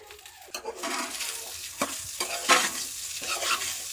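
Rice is stirred into hot frying garlic in a pan, giving a close sizzle with repeated scraping stirs at an uneven pace and occasional clinks of utensil against the pan.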